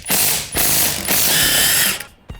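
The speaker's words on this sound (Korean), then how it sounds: "이렇게 잠갔는 게 다시 미드 하이 토크 렌치로 풀리니" A Milwaukee M18 mid-torque impact wrench hammers loose car tire lug nuts: loud, close bursts of rapid rattling impacts, three runs separated by brief pauses, ending abruptly.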